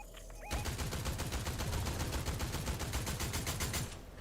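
Rapid automatic gunfire in a Fortnite-style shooter game, a dense sustained burst of loud, closely spaced shots that starts abruptly and runs for several seconds before cutting off.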